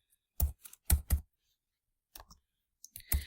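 Several sharp clicks in irregular bursts, close and fairly loud with silent gaps between them, like keys pressed on a computer keyboard while a prompt is typed.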